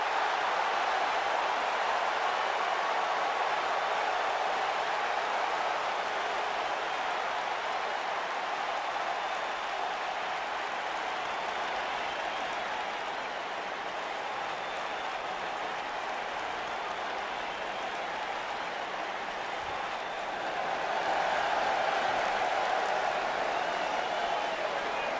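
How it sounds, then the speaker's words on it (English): Simulated arena crowd from the wrestling video game WWE 2K19 roars steadily throughout, a dense broadband wash of voices chanting, swelling louder near the end. "the crowd is chanting for the Lucha Dragon"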